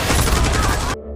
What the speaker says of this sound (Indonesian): langsung ditembak mati oleh Finn.